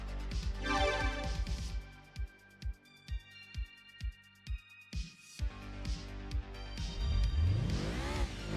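A race car in Gran Turismo 2 on the PlayStation, running a Wagon Cup race, revs and accelerates with loud, close engine notes. Pulsing shifts recur at a regular beat, then it climbs to a high whine with no talking over it.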